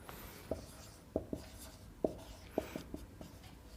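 Chalk or pen marks out a letter during a Class 11 sets maths lesson, producing a quiet string of sharp taps and short scratchy strokes with brief pauses between them.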